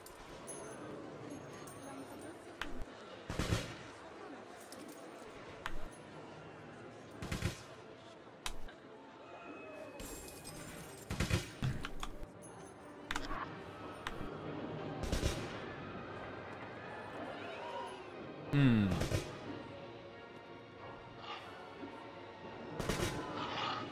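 Gunfire in Planet Coaster comes as a series of sharp, isolated shots spaced a few seconds apart, some louder and some fainter, over a quiet background.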